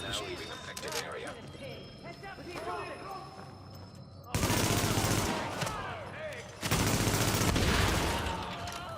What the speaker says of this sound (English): I electrocuted him and shot him.